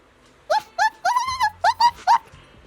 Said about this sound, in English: The cocky little dog barks loudly a few more times, mixed with some impatient sneezes